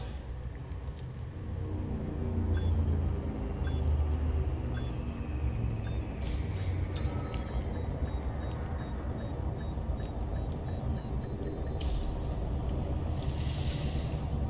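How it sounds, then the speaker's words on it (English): Hissing air release and mechanical whirring as a ship's landing gear deploys in Elite: Dangerous Odyssey, heard over a steady low engine hum, with a brighter burst of hiss near the end. "Landing gear deployed."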